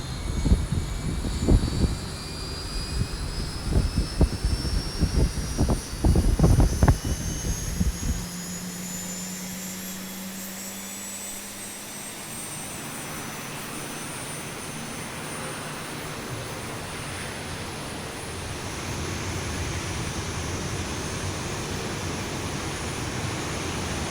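Jet engine of a Boeing 737 spooling up in the X-Plane 11 simulator, a rising whine that climbs steadily over a low hum after a few early clicks and thumps, with no talk.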